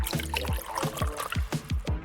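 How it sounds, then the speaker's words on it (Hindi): A cup of water pours into a bowl of honey for a DIY fidget toy, giving a run of quick wet gulps and splashes, close and fairly loud, with no talking. "अब इसमें 1 कप पानी डालेंगे"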